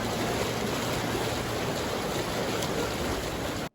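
A roadside river flows in a steady, broadband rush of water that stays even and moderately loud for several seconds, then cuts off abruptly, with no voices over it.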